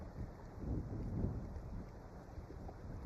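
Steady wind buffeting a microphone on the back deck of a fishing boat, a broad low rumbling roar that swells in gusts and never drops away.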